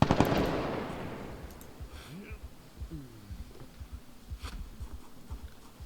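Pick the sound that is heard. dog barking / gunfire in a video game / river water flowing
gunfire in a video game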